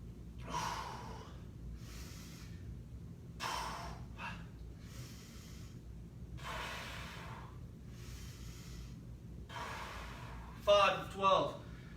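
Heavy rhythmic breathing during a virtual workout, repeated loud exhale bursts roughly every second or so, close to the mic, ending with a couple of sharper gasps.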